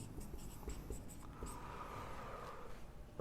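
A pen scratches steadily across a board or paper during a probability lesson, with continuous close strokes and short pauses, and no speech.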